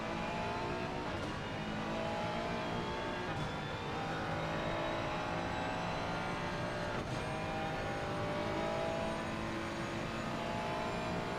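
Race cars lapping Monza in Assetto Corsa Competizione, a dense, steady engine roar with layered revving tones and shifting pitches across a big grid, loud and continuous throughout.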